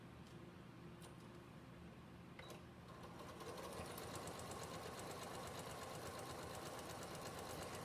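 Sewing machine stitching a reading pillow, starting after a brief pause and then running steadily with a dense, continuous mechanical whir and rapid needle ticking throughout.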